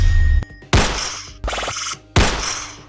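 Gun sound effect added to a remixed song in CapCut: three loud, close, punchy shots, each with a short ringing tail, spaced evenly apart after a brief click.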